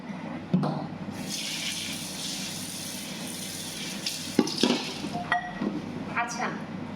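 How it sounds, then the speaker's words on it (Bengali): Dishes being washed under a running kitchen tap, a steady stream of water with scattered clinks of plates and pots, fairly close, with a voice talking in places. "আর এই যে থালা বাসন এগুলা সব ধুইতে হবে এখন"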